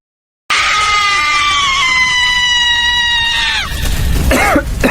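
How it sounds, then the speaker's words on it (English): A long, loud, blood-curdling scream rings out close and sustained for about three seconds before breaking off into ragged, breathy sobbing sounds. "Imagine waking up in the middle of the night to a blood-curdling scream."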